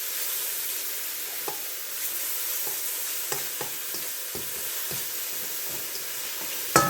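Vegetables sautéing in a pan with garlic powder and onion powder, a steady sizzle and hiss broken by the scrape and clink of a spoon stirring, closing with a louder knock.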